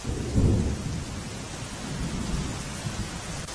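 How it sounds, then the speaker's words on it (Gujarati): Steady heavy rain pours down over the Barda area of Porbandar with deep rumbling thunder rolling underneath, loudest near the start, then a continuous wash of rainfall. "બરડા પંથકમાં સવારથી જ ધોધમાર વરસાદ વરસી રહ્યો છે"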